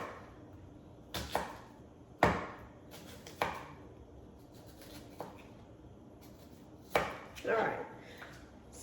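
Kitchen knife chopping larger pieces for navy bean soup on a cutting board: sharp, separate cuts spaced irregularly, a few close together, fairly close, with a brief spoken phrase at the start.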